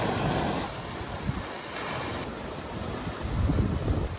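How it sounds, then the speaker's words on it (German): Rough Mediterranean sea waves foam and wash steadily in the morning near a campsite, a continuous loud surf roar mixed with wind buffeting the microphone throughout. "Wo gestern Abend keine Welle zu hören war und das Wasser glatt wie eine Wand zu sein schien, schäumt es am Morgen darauf wild vor sich hin."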